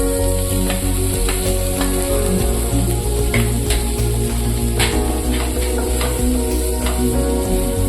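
Chopped capsicum and sweet corn frying in a pan for white sauce pasta, a loud continuous sizzle with occasional stirring scrapes, no voices.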